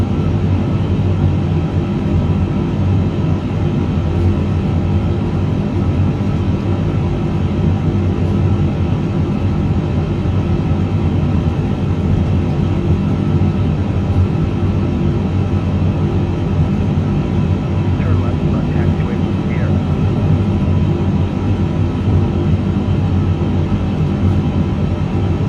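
A STARLUX jet in Microsoft Flight Simulator 2024 taking off, heard as a steady, loud, broad engine roar with a low rumble that holds evenly throughout without pauses.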